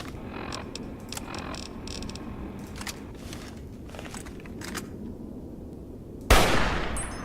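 Gunfire from a .50 cal rifle in Fallout: New Vegas: dense, crackling bursts of shots over a rumbling background, ending in one sharp, loud blast near the close.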